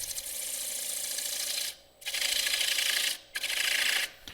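A gouge cuts into a rough-turned wooden bowl on the lathe, giving a steady scraping, rasping shear in three long passes separated by brief pauses, loud and close with no talk.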